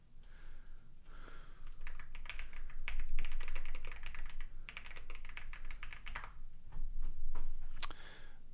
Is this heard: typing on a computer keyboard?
yes